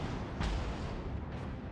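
Main guns of the battleship Mikasa fire in World of Warships, with a heavy boom followed by a second, softer blast about a second later, both sitting over a dense, constant rumble of battle noise.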